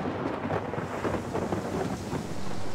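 Thunderstorm during a boat crossing on a lake, with a continuous dense roar of heavy rain and rumbling thunder, steady and loud throughout with no voices.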